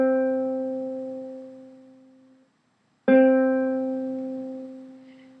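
Two plucks of a ukulele's C string tuned to pitch, each ringing out with a steady fundamental and overtones and fading slowly, separated by a brief silence; close and clear with no talking.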